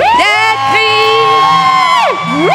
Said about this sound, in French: Je vais pousser des cris de joie.